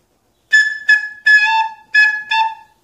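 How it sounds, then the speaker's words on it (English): A recorder plays note A in five short, honking blasts with gaps between them. Each tone is bright and buzzy and sounds slightly off-pitch and harsh, loud and close, with no voices. "this recorder sounds a bit off today"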